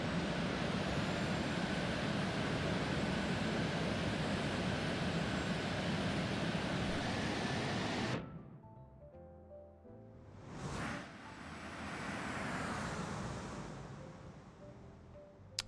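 A Lion Air 737-900 lands on a wet runway in X-Plane 11. Loud jet roar holds steady for about eight seconds, then cuts abruptly to a lower rumble as the aircraft rolls out, with a brief surge partway through.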